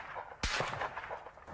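A single loud gunshot from a military weapon fired on a training range, a sharp close blast at the start followed by a brief rumbling echo, with no talk.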